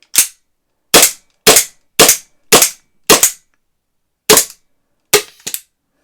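Eight sharp shots from a Vorsk VP-X 1911 gas pistol fired in cold weather, loud and close, spaced unevenly about half a second to a second apart, with the last pair coming quicker and weaker.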